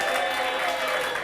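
Steady audience applause fills a stand-up comedy show crowd, a dense close wash of clapping that holds at an even level throughout.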